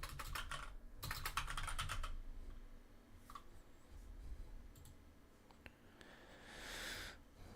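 Keys clatter on a computer keyboard in quick, fairly faint bursts, with rapid clicking clusters and pauses between them, during work on a Dark Tower Defense game.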